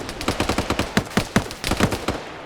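Machine guns fire in a Cold War military video game: rapid, evenly spaced bursts of sharp shots with brief gaps, loud and sustained.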